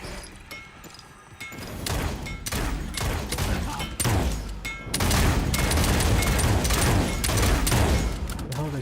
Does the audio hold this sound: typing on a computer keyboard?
no